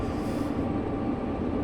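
Freight train rolling along the Sherman Hill route in Train Sim World 2, a steady low rumble of wheels and engine at constant loudness with no voices.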